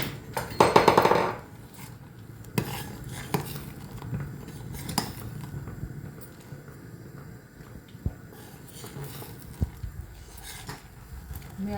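Crushed black pepper and cumin being stirred into a simmering vegetable curry pot. A loud burst of metallic spoon clatter at the start is followed by sparse clinks and taps over a low, steady background.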